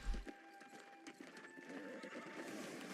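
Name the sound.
horse galloping in video game New World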